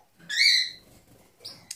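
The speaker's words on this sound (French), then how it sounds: "vous entendez ma calopsite qui est super contente" A pet cockatiel gives a loud, shrill, rising whistle-like call, then a shorter chirp and a quick squeak, close and clear with no voices over it.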